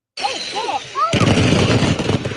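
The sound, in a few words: fireworks display exploding prematurely in Leadwood, news recording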